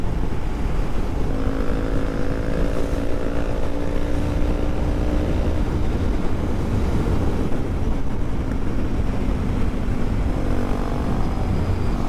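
Motorcycles, a 250 and a GT, riding fast side by side near Dona Paula at sunset, a loud continuous engine drone with wind buffeting and shifting tonal whine from close by.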